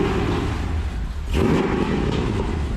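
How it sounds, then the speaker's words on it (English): A Ford Godzilla V8 fitted in a 1965 Lincoln Continental hotrod idles with a steady, deep low rumble close by, and a brief surge in the middle of the clip. "I think this might be the first ever startup of a Godzilla motor in a Continental"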